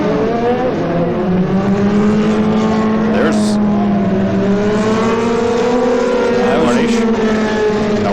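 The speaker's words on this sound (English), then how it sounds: "As you can see, a lot of the cars diving into the pits." IndyCar race cars at the 2002 Nashville Firestone Indy 200 diving into the pits, engines whining and shifting pitch as several cars pass in sequence, loud under a commentator's voice.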